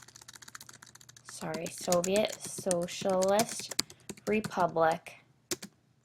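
Quiet clicking keystrokes on a computer keyboard as a timeline title is typed, rattling on softly beneath a person speaking.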